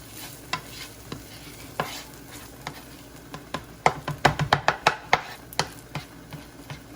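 Shrimp fried rice is pushed around a hot pan with a utensil: a soft sizzle, scattered scrapes, then a quick cluster of sharp taps and scrapes, up close with no voices.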